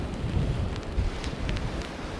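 Strong wind buffets the Scottish coastline, a dense low roar with gusty rumbling that also hits the microphone, while faint hissy spray or water sounds flicker above it; no voices.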